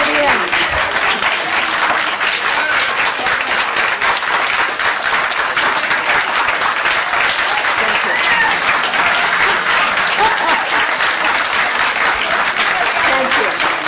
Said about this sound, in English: applause till the end.